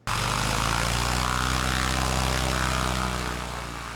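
A Top Rudder Ruckus ultralight airplane's propeller engine drones loud and close at a steady high pitch, starting abruptly and holding almost constant before easing off slightly at the end.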